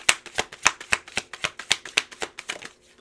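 Cards drawn and flicked from a tarot deck, a quick run of about a dozen crisp, papery snaps in a steady rhythm, close and clear, slowing and fading out at the end.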